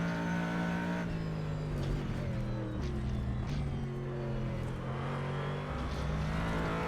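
A Corvette Callaway GT3 in a sim racing game, driven hard: a loud, continuous engine drone holds steady, then drops and climbs again through several gear changes and rev swings, with no talking over it.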